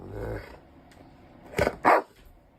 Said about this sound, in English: That's a nice dog.